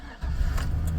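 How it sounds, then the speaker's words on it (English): A 2002 Chevrolet Silverado pickup with about 185,000 miles cranks briefly and catches, its engine settling into a steady, low, close idle rumble within a second. "Fires right up."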